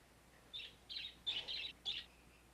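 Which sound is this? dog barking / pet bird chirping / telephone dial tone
pet bird chirping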